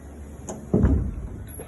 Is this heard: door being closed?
yes